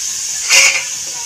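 Rice boiling in a pot on a stovetop, a steady close hiss of steam that swells briefly to a louder burst and then settles back.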